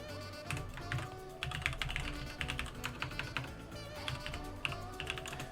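Rapid, close clicking keystrokes on an American-layout computer keyboard tap out in uneven bursts and pauses, with no voices.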